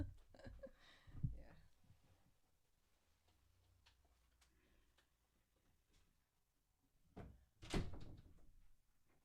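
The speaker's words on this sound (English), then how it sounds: "Let me close the door behind me so I don't hear all sorts of noises." A door pulled shut in a quiet room, a few soft bumps and clicks building to one firm, close thud near the end, with a faint low hum between.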